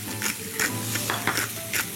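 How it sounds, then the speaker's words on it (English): A whisk beats ingredients in a bowl, with quick rhythmic strokes, about four per second, each giving a close, bright scraping swish and rattle. "I'm going to give that a bit of a whisk."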